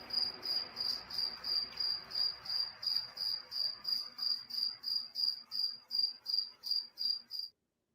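A cricket chirps in a steady, evenly spaced rhythm of about eighteen bright pulses. It is close and loud, with no other sound, and stops abruptly near the end.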